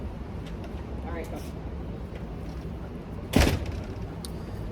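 A door shuts with a single solid thud partway through, heard in a room where people are talking before and around it.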